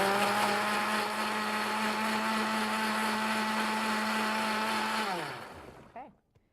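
A kitchen blender whirls apple cider vinegar, raspberries, salt and pepper into a vinaigrette with a steady, loud motor whine for about five seconds, then winds down and stops.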